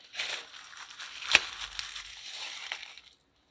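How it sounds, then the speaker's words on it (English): Salt crystals sprinkled over the rim of a fake margarita prop glass give a soft, grainy crunching patter lasting about three seconds, with one sharper crackle near the middle, close and fairly quiet, with no voices. "now I'm going to sprinkle my salt on there"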